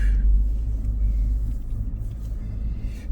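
A car driving on a road the day after a big snow, heard from inside as a steady, loud low engine rumble and road noise, with no talking.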